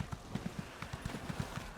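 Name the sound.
horse hooves clip-clopping in The Elder Scrolls Online (video game)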